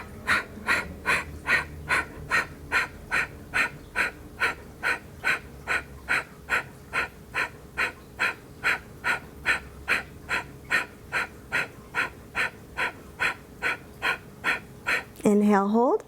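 Deep, regular breaths in and out during a vinyasa yoga flow, about two dozen evenly spaced rhythmic cycles, close and clear, ending with a spoken cue.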